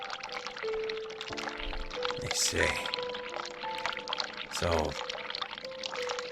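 Hot water runs from a tap in the video game The Cat Lady. It is a steady pouring stream under sustained musical tones, with someone speaking briefly over it.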